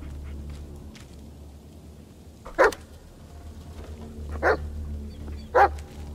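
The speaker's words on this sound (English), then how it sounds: "What are you barking at?" A dog in the Blair Witch video game barks three times, short and sharp, spaced a second or two apart over a low, murky ambient drone.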